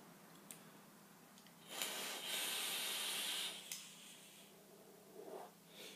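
An e-cigarette coil fires on a max-VG e-liquid, producing a faint, steady hiss of vapour that lasts about two seconds, with a few soft clicks and rustles before and after.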